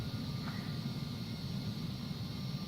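A Phenom 300 business jet glides onto the runway at power-off landing, its steady engine and airflow roar filling the cabin with a constant, even rumble and no talking.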